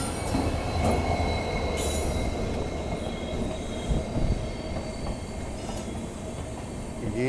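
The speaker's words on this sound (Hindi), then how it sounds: "शायद ये जो ट्रेन आ रही है ना, सवाई माधोपुर तरफ जा रही है" A train rolls past continuously, heading toward Sawai Madhopur on a Rajasthan rail line, with steady rumble, wheel squeal and faint clatter from close by.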